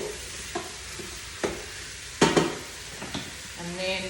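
Vegetables for a coconut chicken curry are stirred in a sizzling pan, with a soft constant fry under a handful of spaced scrapes and clinks of the utensil against the pan, close by, no talking.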